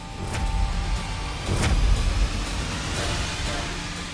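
A car drives along steadily, its engine and road rumble heard from inside the cabin, with a brief louder swell partway through.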